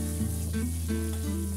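Steady, close sizzling of garlic frying in hot oil, with a constant crackling hiss and occasional stirring scrapes; no talking.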